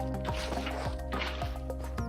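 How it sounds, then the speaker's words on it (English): Water being placed and spreading in Minecraft, heard as repeated wet splashing and gurgling bursts roughly every half second over a steady tonal background, close and fairly loud, with no speech. "I'm just going to try and fill this with water now"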